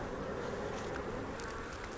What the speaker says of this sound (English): So here's a bee with pollen right here.